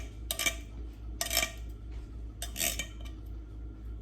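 Canned cherries being spread out in a slightly undersized pan, heard as three separate bursts of wet scraping and metallic clinking over a steady low hum, with no talking.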